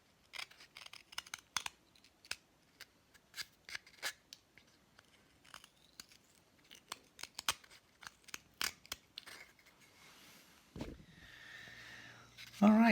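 A knife carving poplar wood by hand, producing a series of short, sharp scraping and slicing strokes at irregular intervals, close and fairly quiet, with a brief louder rustle near the end.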